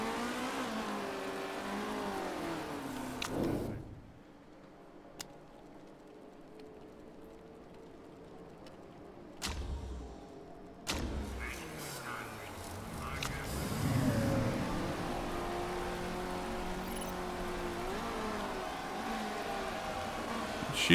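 Race car engines in the video game Motorsport Manager whine and rev across the clip, dropping out briefly in the middle, then a high engine note rises and falls again, with a voice talking over parts of it.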